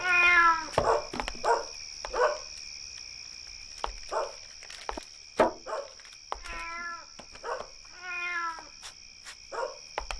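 A cat meows repeatedly at close range, about ten separate plaintive cries spread irregularly across the stretch, over a constant high-pitched insect-like whine with occasional soft clicks.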